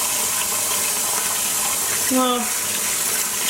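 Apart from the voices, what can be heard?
water running while rinsing hand-dyed yarn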